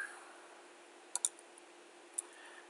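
A few quiet mouse clicks clicking OK in AutoCAD Electrical software, a quick double click then a single click, close and faint over steady hiss.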